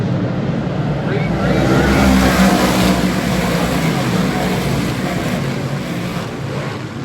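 Race cars at a Little League night short-track event roar past in a dense, steady engine drone that swells and fades slightly, with a commentator talking over it throughout.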